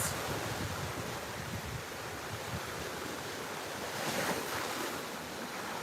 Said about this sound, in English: the soothing rhythm of the water and the waves